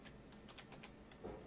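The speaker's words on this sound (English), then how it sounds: "You just type in / and the little squiggly line at the top left of your keyboard" Keys clack on a computer keyboard in a quick irregular run of light taps, faint and close, ending with a slightly firmer keystroke, no voices.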